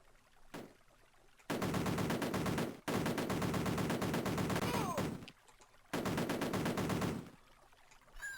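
Rapid bursts of retro video game machine-gun fire from Cannon Fodder, three long loud rattling volleys separated by short quieter gaps, with a falling whistle-like tone between the second and third.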